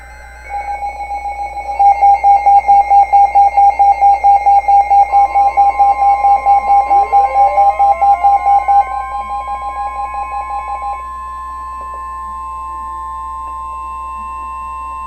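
Emergency Alert System data bursts for a blizzard warning: a loud run of rapid, evenly pulsed electronic tones, followed by a steady sustained two-tone attention signal, then a gliding beep and a fading tone, with no voices.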